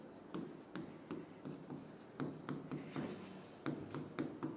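Chalk or marker strokes on a board during a lesson, a run of short rhythmic scratching bursts with brief pauses, close and moderately quiet, with no talking.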